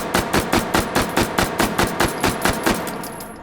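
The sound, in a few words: MP5 gunfire in the video game H3VR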